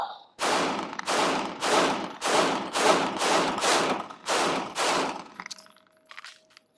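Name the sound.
gunshots from a Sig Sauer M18 P320 pistol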